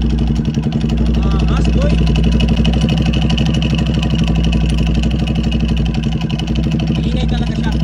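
A Sniper 150 motorcycle with a dry clutch starts and runs loud and close, its engine beating in a steady rapid rhythm with a rattling clutch clatter, while a voice briefly exclaims over it.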